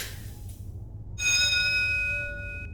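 A doorbell chimes inside the Fahrenheit Indigo Prophecy Remastered video game, a bright ding-dong of sustained bell tones that starts abruptly after a quiet stretch of low ambient hum and rings out clearly before slowly fading.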